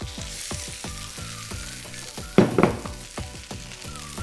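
Potatoes for spicy aloo tikki rolls crackle and sizzle in hot oil for tempering, a steady frying hiss with a louder spattering burst midway, over a faint tonal background.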